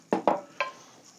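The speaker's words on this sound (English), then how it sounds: "Gonna dump my black beans." Black beans tipped into a cooking pot with beef for a dehydrated trail meal, three quick soft thuds and rattles close by, then a light sizzle fading out.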